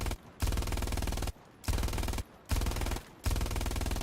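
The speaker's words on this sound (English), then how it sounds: "let's just keep unleashing some rounds on it" A machine gun in the video game Hell Let Loose fires loud, close sustained bursts, four long volleys separated by short pauses, with no voices over it.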